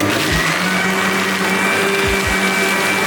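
A mixer grinder runs loud and steady as it churns curd with ice cubes to make butter for ghee, a continuous whirring roar with a few low knocks from the jar.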